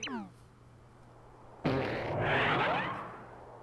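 Super Paper Mario fart sound effect, a sudden loud blast with a rising pitched squeak trailing off, following a brief game jingle and voice-like chatter.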